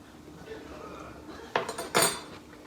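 A clean spoon knocks against a big bowl of whole wheat pasta salad dressed with lemon juice, salt and pepper, giving two sharp clinks near the end after a quiet stretch of faint handling noise.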